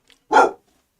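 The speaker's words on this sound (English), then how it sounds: "my dog's going berserk because anyone who goes past our gate gets barked at" A single loud, close dog bark at passers-by beyond the garden gate, short and sharp, surrounded by silence.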